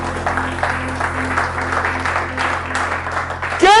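A church congregation applauds and cheers for the king during a sermon, a dense, steady wash of clapping and voices that keeps up throughout and swells at the very end.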